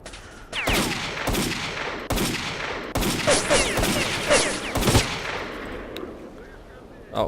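Enemies fire guns in the video game STALKER: Call of Pripyat, a loud volley of sharp gunshots and bursts cracking every second or so over a rumbling background, then tailing off.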